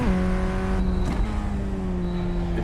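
A formula race car laps Sebring, its engine a loud, continuous high-pitched drone heard from onboard, with the pitch dipping briefly around a shift before holding steady again.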